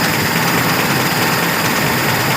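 A car engine with a carburetor idles steadily, its idle set slightly high, giving a close, continuous rumbling drone with no voices.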